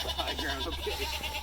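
Young goats on a small family farm bleat in short, wavering calls, several in quick succession at close range over a low constant hum, with no clear talk.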